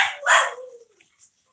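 A small dog lets out a sharp close bark that trails into a whining tail, followed by a brief second yip, as its two companion dogs start chiming in.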